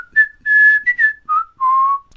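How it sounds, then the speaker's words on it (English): A person whistles a short jaunty tune as a call sign, several clear bright notes rising and falling in quick phrases, close and alone with no talking. "I'll saunter down there, whistling a jaunty tune, which will be, you know, my call sign"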